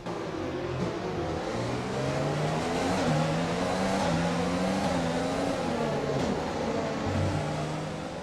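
Formula 1 race car engines in the F1 2020 video game at Marina Bay, Singapore, a continuous high-pitched whine that rises and falls with gear shifts and acceleration, loud and sustained with no talking.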